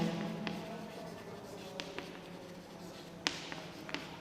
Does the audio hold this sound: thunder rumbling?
no